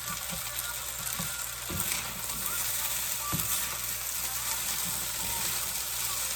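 Fried rice being stirred and scooped in a sizzling pan, with a steady loud hiss of frying throughout and the utensil scraping and knocking against the pan bottom at an irregular pace, close-up.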